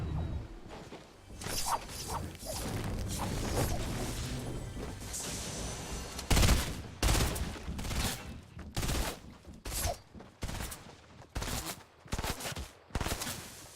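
Video game gunfire from a three-round burst rifle: a dense stretch of crackling shots at first, then sharp, separated bursts crack out in a quick irregular rhythm, loud and close, with no talk.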